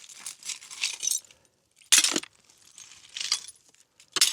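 Broken glass shards in a rotten cabin clink and scrape in a few separate bursts, with bright tinkling rattles and short pauses between them.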